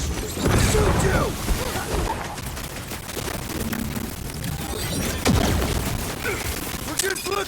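Rapid gunfire and impacts ring out during combat against enemies in the Guardians of the Galaxy video game, dense bursts and crashes layered with game effects and shouted character voices.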